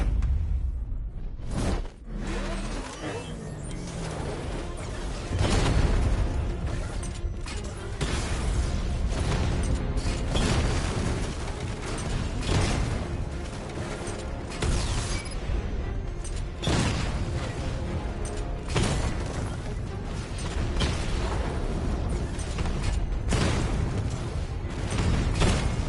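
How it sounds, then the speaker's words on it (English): Tank 60mm cannon fire and explosions in a video game, a dense, loud run of booming blasts and whooshing bursts that rolls on continuously for the whole stretch with no pauses and no talking. "Your 60mm cannon will penetrate these heavily armored units, but it'll take a few direct hits to destroy them."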